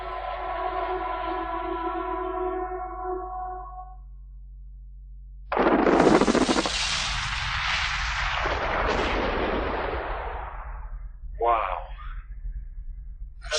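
A massive blast at a gold mine, set off with 180,000 tons of explosives. After a sustained droning tone, a sudden loud boom rolls into a long, roaring rumble, and a second sharp burst follows near the end.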